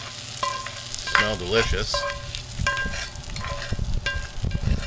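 Food sizzles and fries steadily in a pan at an outdoor breakfast barbecue, with clinks of utensils and a person speaking briefly over the crackle.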